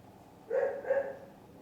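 A neighbour's dog next door gives two short barks in quick succession, moderately loud, separated by brief quiet on a foggy night.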